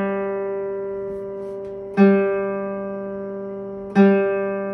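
An open guitar G string is plucked for tuning, ringing on from an earlier pluck and then struck twice more at even intervals, each close, full note sustaining and slowly fading, with no speech.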